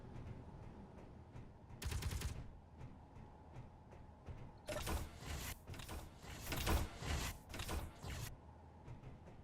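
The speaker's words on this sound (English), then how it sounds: "Well, that one is." Turrets in the Space Engineers game fire a short burst of rapid automatic shots, then a longer stretch of sustained rattling fire after a pause. The shots are faint and come over a low background hum.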